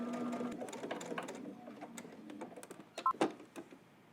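Domestic sewing machine stitching in the ditch across a zipper hoodie, a rapid mechanical whir of needle strokes in short bursts with brief stops, close and fairly quiet.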